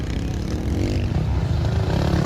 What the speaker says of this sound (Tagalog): Ano bang motor ni Zaira dito? Mukhang 85cc ata to eh.